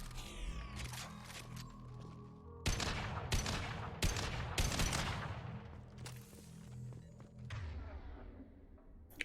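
Weapon fire in the Mass Effect 2 video game, several loud sharp bursts in quick clusters over a steady low game hum, with one pair of shots landing close together.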